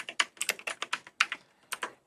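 Fingers tap out quick bursts of clicks on a computer keyboard while entering code in RStudio, a close, crisp run of about a dozen keystrokes with brief pauses between groups.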